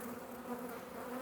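Honey bees on a hive frame hum as a dense, steady buzzing drone close by, with a newly emerging bee among them and no voices.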